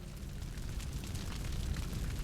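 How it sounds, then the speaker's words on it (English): A burning minivan roars after an explosion in the video game 428: Shibuya Scramble, a steady loud crackling, rushing blaze with a rumbling low end and no voices. "A massive fiery blast knocked him from his feet. A deafening roar set his head throbbing."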